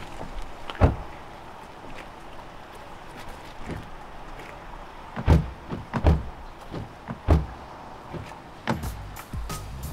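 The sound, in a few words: door being shut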